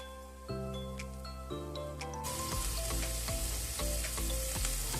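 Chopped garlic and ginger fry in oil in a pan, a continuous close sizzle with scattered crackling pops, heard beneath sustained background music that grows louder partway through.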